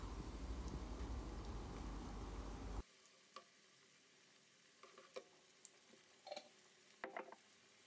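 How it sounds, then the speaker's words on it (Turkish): Pepper paste with tomato juice sizzles and fries loudly in a pan for a few seconds, then cuts off to quiet, followed by sparse clinks and scrapes of stirring. "Bir yemek kaşığı biber salçası, 4 yemek kaşığı domates suyu ekleyelim. Kavurma işlemine devam edelim."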